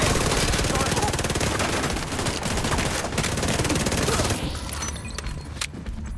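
Rapid shotgun and SMG fire from The Division 2 pours out in a dense, loud, continuous stream of close shots, then thins into a few scattered bursts near the end.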